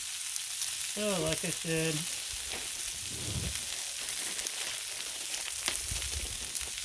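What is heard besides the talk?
sweet corn sizzling in bacon grease on a Blackstone griddle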